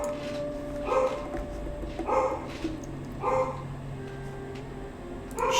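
Dogs barking in Quest for Glory II, about five evenly spaced barks with a hint of yipping, fairly near and loud over a low steady background hum.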